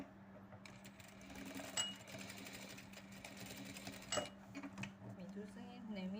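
A sewing machine stitches a nut bag in steady, quiet mechanical runs with a constant motor hum and a couple of brief clicks, while someone talks over it.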